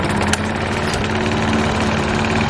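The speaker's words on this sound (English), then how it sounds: "I went hard mowing every square centimeter of both my front yard and my backyard" Lawn mower engine running steadily and close up while mowing a backyard lawn, a constant droning buzz with no pauses and no talk over it.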